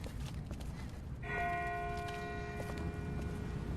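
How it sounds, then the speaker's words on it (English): A bell tolls in the distance in The Walking Dead video game, coming in partway through as one sustained ringing tone that hangs over a rough, noisy outdoor background with no talk. "That's not the same bell as before. This one's further off."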